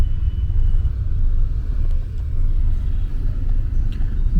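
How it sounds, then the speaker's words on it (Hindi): Heavy road traffic on the way to an airport sounds as a steady, loud low rumble of cars and engines from inside or beside the flow, with no distinct horns or passes. "भाई बहुत ट्रैफिक है"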